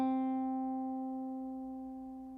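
A single plucked guitar note, third string fretted at the fifth fret with the middle finger, rings out clean and clear and then slowly fades, with nothing else around it.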